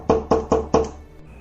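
Four sharp knocks on a door, evenly spaced and close, with a quick rhythm, followed by a quiet tail, heard alone as a sound effect in a spooky told story.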